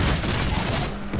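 Heavy gunners fire a rolling musket volley in a Shogun 2 Total War battle, a dense, loud crackle of overlapping shots across a short burst, with no voices.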